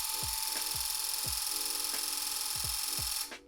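A loop pile rug tufting gun loaded with yarn runs with its trigger pulled, giving a steady high motor whine with rhythmic low thumps about every third of a second, loud and close, stopping near the end.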